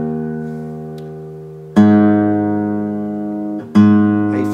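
An acoustic guitar string tuned down to A flat rings out in sustained, plucked notes. Three strikes come alone and close, each decaying slowly before the next, with no talking.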